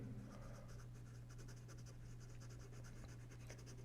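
A pencil scratches lines on paper while sketching a cat, soft rapid strokes in short bursts over a faint steady hum, close and quiet.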